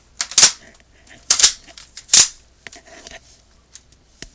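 A toy cap gun fires three loud, sharp pops about a second apart indoors at home, then several fainter clicks and snaps follow.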